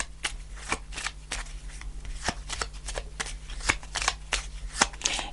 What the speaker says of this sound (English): I'm going to pull a card to finish off the reading